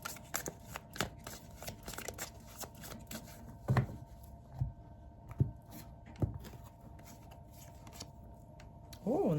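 Tarot cards being shuffled by hand, a run of crisp riffling and slapping bursts, close and fairly loud, with brief pauses between rounds.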